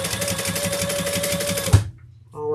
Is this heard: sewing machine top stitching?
yes